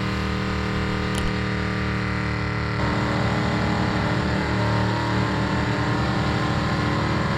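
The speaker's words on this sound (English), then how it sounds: "the Burnout contest, which never fails to attract a vast array of vehicles willing to do some serious tire shredding" Engines roar and tires shred at the Mopar Nationals burnout contest, a loud, continuous rev with no break.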